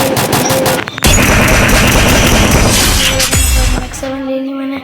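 Rapid automatic gunfire from a Groza assault rifle in a fast-paced multiplayer shooter video game, loud sustained bursts with shattering and impact sounds, a brief pause near one second and a louder final volley.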